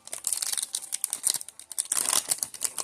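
Gold foil trading card packs being torn open, with close, busy crinkling and tearing of foil wrappers in rapid bursts, loudest near the end.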